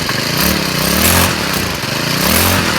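Troy-Bilt TB475SS string trimmer two-stroke engine running loud and close, its buzzing drone rising and falling as the throttle is worked after a flooded start.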